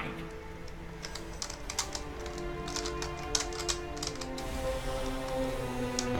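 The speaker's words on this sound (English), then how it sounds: "So I just kind of end up just mashing the keys almost" Rapid, irregular clacking of computer keyboard keys being mashed during a World of Warcraft session, dense bursts of close taps over soft game music, with no talking.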